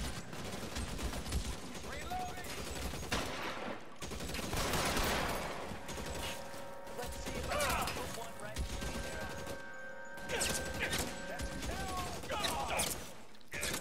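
Bursts of gunfire crackle repeatedly in an L.A. Noire police shootout, with rapid clustered shots and brief pauses between volleys, moderately loud, while someone talks over parts of it.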